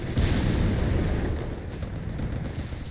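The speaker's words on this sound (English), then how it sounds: "we got mortar firing down death here upon Theodosios' positions" Mortar fire in Company of Heroes 3, heavy booming impacts with a deep rumbling body, loudest at the start and fading with a few lighter pops trailing after, heard alone.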